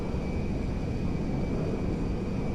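Boeing 747LCF Dreamlifter jet in GTA 5 flying over the game's hills, a steady loud broadband engine roar and rumble that holds unchanged throughout, with no voices.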